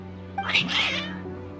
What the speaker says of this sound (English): Strange. Your cats seem pretty worked up.